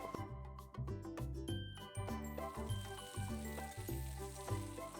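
Garlic, onion and tomato frying in oil for toor dal give soft sizzling under a loud, rhythmic run of pulsing instrumental music, with light clinks throughout.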